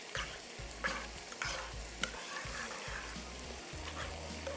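Nacho cheddar cheese sauce with mayonnaise simmering over low heat, with soft sizzling and repeated scraping stirs of a spoon in the pan, fairly quiet and close, no talk.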